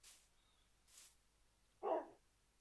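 A dog in the TaleCraft game gives a single short, fairly faint bark near the end, preceded by a couple of soft breathy rustles.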